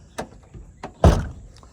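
A heavy vehicle door on a battered demolition derby car thuds once loudly after a few lighter knocks and clunks, slammed without latching shut.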